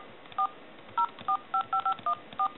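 Windows Phone 7 keypad dialing out a call: eight short, clear touch-tone beeps at an uneven pace, each a brief two-note chirp, alone over a faint hiss with no talking.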